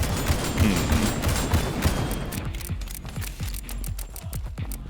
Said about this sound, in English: they have like a freaking machine gun